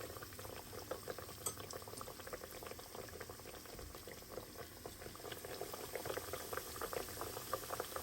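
Schnitzels sizzle in hot oil in a frying pan, a continuous, soft crackling and bubbling with small pops scattered throughout, steady and close with no talk.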